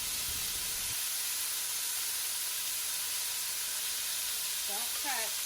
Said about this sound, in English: We want it to kind of char and grill.